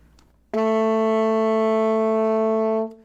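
A single sustained saxophone F sharp, steady and clear, held for over two seconds with no talk, starting abruptly and fading at the end.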